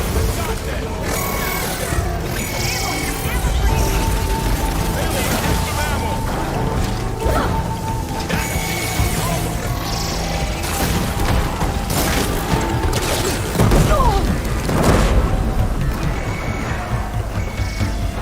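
Robot machines attack in a video game with heavy metallic booms, crashes and mechanical clanking under a dense, continuous battle din, and voices come and go throughout.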